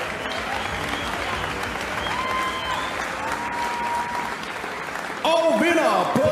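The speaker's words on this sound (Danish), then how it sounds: "giv begge bokser et stort bifald" Audience applause and crowd noise fill the arena after a women's boxing match, steady and dense, then swelling louder near the end as an announcer's voice carries over it.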